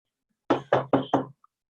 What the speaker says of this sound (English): Suddenly, we hear a knock from inside the basement door.